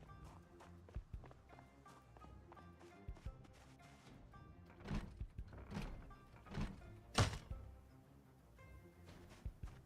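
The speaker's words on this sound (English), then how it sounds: "Oh, there is something banging on the side." Repeated dull thuds from a zombie banging on the side of a building in Project Zomboid, irregular knocks at moderate distance, some sharper and louder than others.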